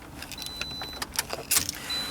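A new four-cylinder car switched off from inside the cabin, with keys jangling in a few quick clinking bursts close by, alongside soft clicks and a faint steady electronic tone.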